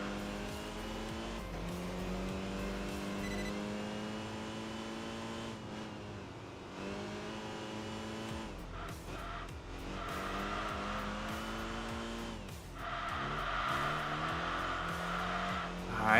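Race car engine in Enthusia Professional Racing, chasing an RX-7, droning steadily with gear-shift pitch sweeps, easing off under braking and then climbing again, with a final loud burst at the end.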